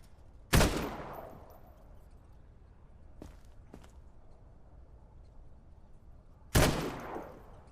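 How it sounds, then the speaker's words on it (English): Two sharp, loud gunshots about six seconds apart fire at rats in the game Quarantine Zone, with a couple of faint clicks between them over a quiet background and no talking. "Maybe I'll shoot the rats after all."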